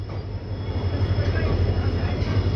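A passenger train running from Izzatnagar to Bareilly Junction gives a loud, continuous low rumble with a steady rolling texture throughout.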